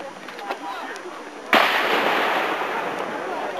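A small mortar fires a single loud, sharp boom at a Battle of Shiloh re-enactment, its blast rolling off into a long fading rumble over faint outdoor background noise.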